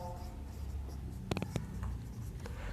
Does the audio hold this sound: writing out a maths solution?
yes